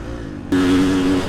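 Husqvarna FC 350 motorcycle engine revving hard, jumping suddenly into a loud, sustained high-pitched scream that holds steady through to the end.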